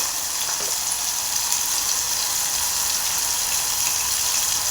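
Food fries in a hot pan with salt, giving a steady, dense sizzle of crackling oil that stays even throughout, with no voices.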